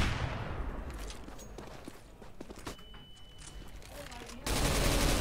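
Rapid gunfire fills a Counter-Strike: Global Offensive match on the Dust2 map, with dense, loud bursts and clatter alongside footsteps and game noise, and a commentator's voice faintly underneath.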